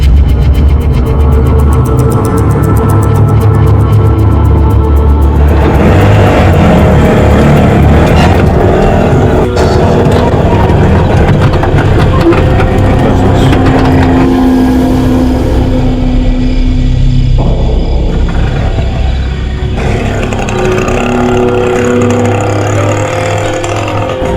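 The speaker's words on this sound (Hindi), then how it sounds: "ऑटो है ना, ऑटो में चलते हैं" An auto rickshaw drives through a busy street, its engine droning steadily and loudly throughout with traffic noise around, no talk heard.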